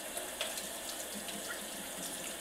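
Warm water runs steadily from a tap while squirrels are washed, giving a soft, even splashing rush that stays fairly quiet and continuous throughout.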